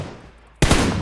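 Sudden burst of gunfire in the battle-royale game PUBG Mobile, starting loud partway through after a quiet stretch and continuing dense and close to the end.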